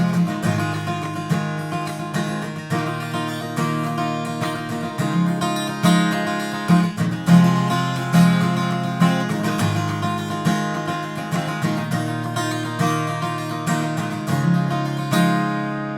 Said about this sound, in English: I let the top E string, this thinner string, ring out as like a drone